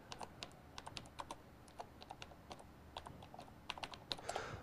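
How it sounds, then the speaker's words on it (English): Typing on a computer keyboard while editing a title, with quick irregular key clicks close by and no talking. "To modify the title, you simply click and type."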